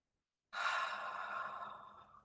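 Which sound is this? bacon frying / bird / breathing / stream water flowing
breathing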